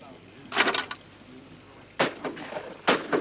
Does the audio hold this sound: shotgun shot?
yes